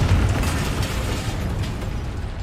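Confringo blasting spell in a Harry Potter wizarding video game, a loud, close explosion whose deep rumbling boom fills the whole moment without pause, with no talk over it.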